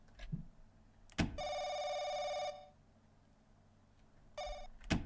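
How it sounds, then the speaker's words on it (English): A telephone rings inside a video game, Stranger in My House, a Paranoiac remake: one long, bright electronic trill, then a second ring starting after a pause, loud and close with no voices. "Something tells me it's this phone"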